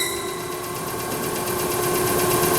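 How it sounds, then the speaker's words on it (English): Wheel head of a K.O. Lee B1020H super-precision CNC universal cylindrical grinder running on its own, a steady close mechanical hum with a constant whine and faint vibration, unchanging throughout. "Maybe we'll just run the wheel head first all by itself"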